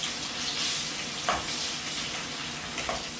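Onions sautéing in a hot pan for vendakkai meen kuzhambu, a steady close sizzle and frying hiss throughout, with a couple of brief stirring scrapes and no talking.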